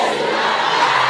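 A congregation at a lively French-speaking church service shouts back a repeated phrase in unison, a loud sustained roar of many voices filling the room.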